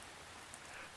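Soft, steady rain sound effect, a continuous hiss of falling drops on a surface, low in level and unbroken for the whole second with no voices over it.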